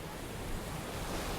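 Steady broadband surf of ocean waves on a sunny Miami beach, a continuous washing roar with wind noise on the microphone and no distinct breaks or voices.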